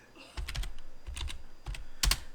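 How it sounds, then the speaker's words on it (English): Fingers tap at a computer keyboard in short bursts of clicky keystrokes, close and crisp, with brief pauses between clusters and no talking. "I'm typing at my keyboard"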